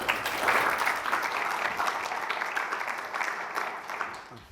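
An audience at a distinguished seminar applauds to welcome a speaker, with steady, dense clapping that continues evenly throughout at moderate loudness.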